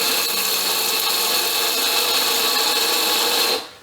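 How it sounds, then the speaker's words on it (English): An electric grinder blends a curry spice mixture for Sri Lankan chicken curry, a loud, steady, high-pitched whir that runs without a break and then cuts off sharply just before the end. "Okay, so that's everything into the grinder. We're really doing this just to blend the mixture together now."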